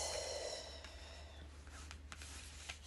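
A dog lying close by snorts and breathes, giving soft, irregular sniffs and huffs, faint and near, over a low steady background hum.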